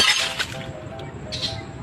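Sledgehammer striking a glass pane: a sharp shattering crash, then a scatter of tinkling shards and a second bright clink, close and loud.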